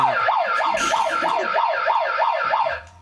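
A loud police siren wails up and down in quick, steady cycles for several seconds, then cuts off abruptly at the end.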